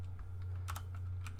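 Quiet keystrokes tap on a computer keyboard in a brief irregular burst over a low steady hum, with no talking.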